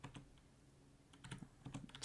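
Faint typing on a computer keyboard during a coding session, a few scattered quick keystroke clusters with pauses between them.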